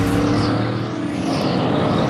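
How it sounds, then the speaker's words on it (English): In-car sound of a NASCAR Cup stock car engine at the Bowman Gray race, held on light throttle at low RPM: a loud, steady droning roar that fills the cabin with no letup. "Listen to that throttle."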